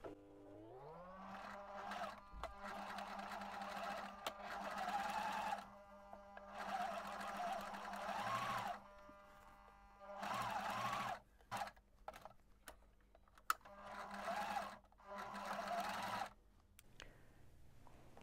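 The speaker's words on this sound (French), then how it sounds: "Nous allons maintenant piquer à 1 cm du bord." A sewing machine stitches 1 cm from the edge of the fabric in repeated start-stop runs, with short pauses and small clicks between the bursts of steady whirring.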